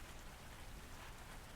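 Steady, very faint rain falls on a surface, an even, continuous hiss with no breaks.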